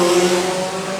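Pack of junior sedan stock cars accelerating together at a race start, a brief dense roar of engines at steady pitch, loud and close.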